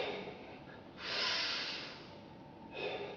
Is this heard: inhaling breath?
yes